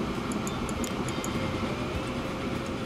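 Train running in Transport Fever 2, a steady low rumble with faint high clicking, heard alone at moderate level.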